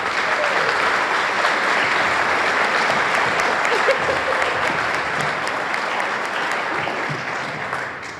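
A conference audience breaks into sustained, dense applause to welcome Mayor Michelle Wu, clapping steadily throughout and fading slightly at the end.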